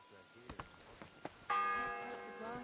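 In Kingdom Come Deliverance 2, a church bell strikes once with a resonant, ringing tone that sustains and slowly fades, preceded by faint footsteps and ticking.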